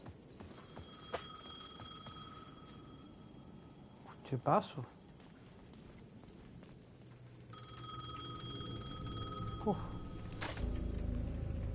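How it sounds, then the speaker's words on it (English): A payphone at the edge of a plaza in the video game Alan Wake 2 rings in two electronic bursts separated by a pause, with a short spoken line and scattered game sounds between rings. "The payphone at the edge of the plaza was ringing again."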